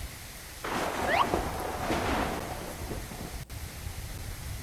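Steady rain with a long rolling rumble of thunder in the video game Medieval Chronicles 8, the thunder swelling loud near the start and fading under the constant downpour, with no voices.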